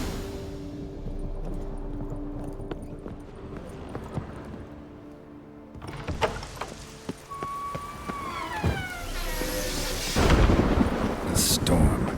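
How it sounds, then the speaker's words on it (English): A thunderstorm rolls through The Witcher 3: Wild Hunt's Blood and Wine expansion, with low rumbling thunder building under game ambience, scattered sharp knocks, a rising tonal whine and a louder crackling surge near the end. "A storm, damn it."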